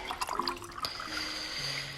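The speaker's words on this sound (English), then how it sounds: "So I'm going to refill my my little infused water." Water trickling and pouring into a small infused water bottle being refilled, a faint, brief liquid stream with light drips, no talking.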